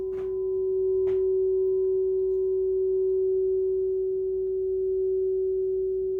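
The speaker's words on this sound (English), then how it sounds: "Germain Crystal Singing Bell. This is an F sharp." A crystal singing bell rings an F sharp: one pure, sustained tone that holds steady and loud for the whole stretch, with two soft taps near the start and no voices.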